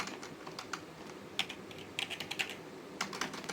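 Keystrokes on a computer keyboard entering a user-add command in a Debian 9 terminal, a run of crisp, close clicks in uneven bursts with short pauses between groups.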